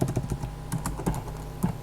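Quick irregular clicks of typing on a computer keyboard, close and fairly quiet, a short burst of keystrokes with no speech.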